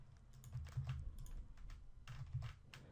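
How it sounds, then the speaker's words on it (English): Computer keyboard keys being typed in short bursts as a website address is entered, close and fairly quiet, with steady clicking clusters and brief pauses and no talking. "we're going to type the address of our website there"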